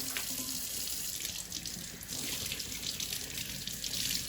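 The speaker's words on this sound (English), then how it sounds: "I'm gonna carefully take it over to the sink, and I'm gonna use cold water" Cold tap water runs steadily into a kitchen sink while a salmon fillet is rinsed, a loud close continuous splash with slight shifts as the fish moves under the stream.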